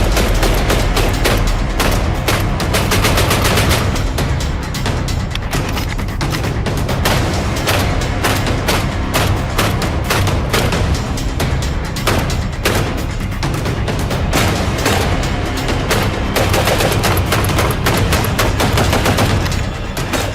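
A Mossberg 940 JM Pro shotgun fires in rapid strings of loud, tightly spaced blasts that run almost continuously, with only brief pauses, close and dominant.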